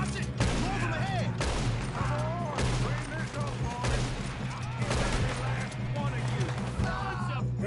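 Gunfire in the video game Red Dead Redemption, a rapid fusillade of sharp shots cracking throughout, dense and loud against a droning backdrop, with voices shouting over the firing.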